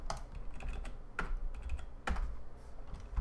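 Code is typed on a computer keyboard in a C programming session, with quick clusters of close, crisp key clicks separated by brief pauses.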